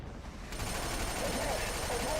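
Dense gunfire in the video game Killzone 2, a continuous rattling wash of rapid shots filling the scene, steady and loud throughout with the faint sense of battle voices underneath.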